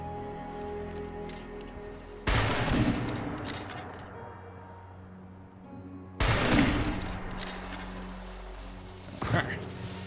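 Hostile automated turrets in Fallout 76 open fire at an ammo dump, with two loud bursts of rapid gunfire a few seconds apart over a steady low background hum and a smaller crack near the end.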